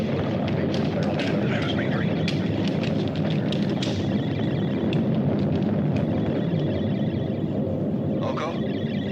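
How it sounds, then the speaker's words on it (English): A stellar explosion effect from a 1977 Italian sci-fi space film: a loud, continuous deep rumbling roar with crackling bursts, sustained throughout. "Mila, check the distance of the stellar explosion."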